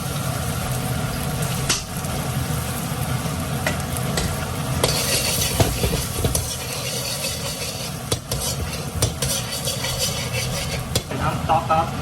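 Garlic fries in a hot wok for a lobster rad na dish, a continuous crackling sizzle broken by frequent scraping and clanking strokes of a metal spatula stirring against the pan.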